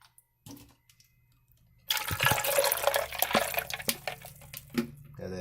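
Liquid pours into a blender for a black iced tea slushie, a steady rushing, splashing stream starting abruptly and running loud to the end, with a few knocks and clatters on top.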